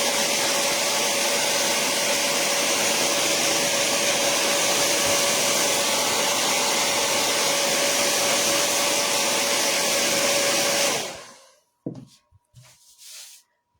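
A hair dryer blows steadily on a painted craft ear cutout for about eleven seconds, loud and close, then cuts off, followed by a few brief quieter handling sounds.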